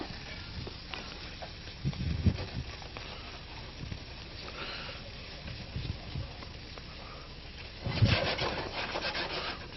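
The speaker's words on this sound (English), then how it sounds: "Those eggs will cook up very quickly because it's just scrambling into this hot mix." Eggs scramble in a hot pan mix for an Asian-style dish, a low sizzle under repeated scraping and rubbing stirs of a utensil against the pan, with louder bursts of stirring now and then and no talk.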